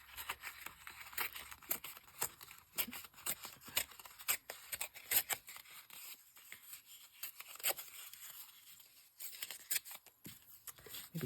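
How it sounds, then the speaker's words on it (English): Paper scraps being torn by hand during a crafting session, a steady series of short, dry rips and rustles at close range, fairly quiet with small pauses between pulls and no voices. "I'm going to tear another piece of this off"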